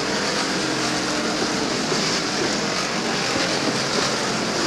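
Pontiac stock cars racing door to door at Beech Ridge Motor Speedway, a constant loud engine roar and rushing track noise that holds steady throughout, with no talk.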